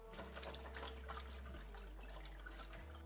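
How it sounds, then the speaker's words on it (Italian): Sliced potatoes are rinsed under a running kitchen tap, a steady splashing stream with small bursts and trickles as the water hits them, continuous and moderately close over a low hum. "anche le patate le sciacquiamo sotto l'acqua"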